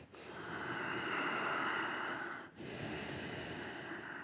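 Slow, audible breathing during a yoga practice: a long, soft airy breath that fades, a brief pause, then a second breath, close and quiet.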